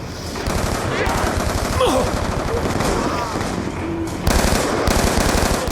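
Rapid automatic gunfire rattles almost continuously in a zombie video game, loud and close, with a brief pause before another burst; faint voices sit under the shooting.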